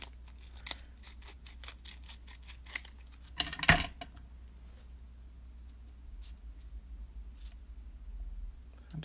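Tim Holtz scissors make a quick run of small, crisp snips cutting a thin strip of paper, followed by one louder clatter, then quiet handling.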